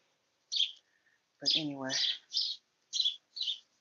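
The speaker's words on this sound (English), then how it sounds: "You hear those birds?" Small birds chirp in a garden with purple mustard plants and a banana tree, giving several brief, bright calls in quick bursts while a person speaks briefly in the middle.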